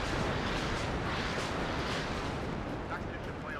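Artillery fire in the WARNO strategy game, a dense continuous rumble of overlapping booms and blasts that fills the whole span, steady and heavy with no clear gaps between impacts.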